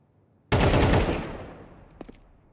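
Desert Eagle pistol fire in Counter-Strike 2: a single loud, close burst of shots with a long ringing tail, then two faint clicks.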